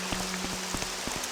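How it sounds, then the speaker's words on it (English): Rain in the video game Morrowind falls as a dense, even patter of drops on surfaces, with sharper individual splashes popping out now and then over a constant wash. No voices are heard. "It's just the rain."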